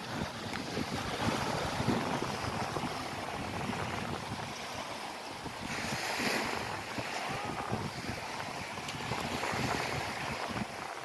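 Ocean waves wash steadily onto a soft-sand beach on Sanibel Island, Florida, as the tide comes in, a continuous broadband surf roar with gusty wind buffeting the microphone throughout and no talking.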